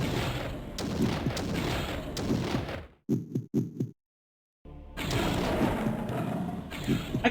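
Shots fired through walls in Blood Omen: Legacy of Kain ring out as dull thuds and bursts. A few sharp hits come in quick succession between dense, noisy game sounds, with a short silence in the middle.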